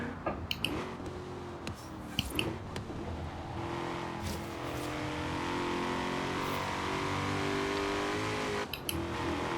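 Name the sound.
Ford Mustang Shelby GT350R engine revving in video game Forza Horizon 3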